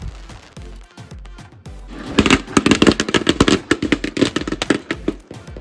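Firecrackers burst during Diwali celebrations, starting with a few scattered pops, then breaking into a rapid, loud string of sharp cracks that crackles close by for several seconds.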